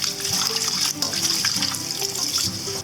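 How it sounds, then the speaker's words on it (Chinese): Anchovies are rinsed under running water, producing a continuous close splashing flow from a tap without pause. "我们用水稍微冲洗一下"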